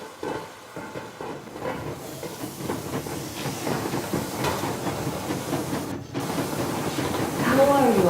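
The Yermak steam train in the video game Metro Exodus, a steady rumble with hissing steam and rolling rail clatter that builds slightly over several seconds, with talk over it.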